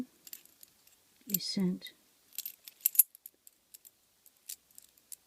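Bunches of keys cut with different biddings for lockpicking practice jangle and clink in short metallic bursts, close and sparse, with a brief spoken word in the middle.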